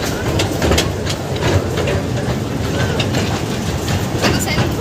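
A moving passenger train clatters along the track, with steady loud rumble and rhythmic clickety-clack from the wheels, heard from inside a carriage with faint voices in the background.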